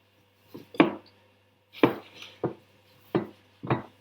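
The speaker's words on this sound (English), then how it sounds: "You want to knead it like this for a good while" Pizza dough being kneaded by hand in a bowl, heard as five separate soft thumps and slaps spread over a few seconds against a low steady hum, with no talking.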